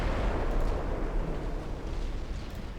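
Warship guns firing in a naval battle video game, a dense, rumbling barrage of heavy booms that blend into a continuous roar without clear gaps.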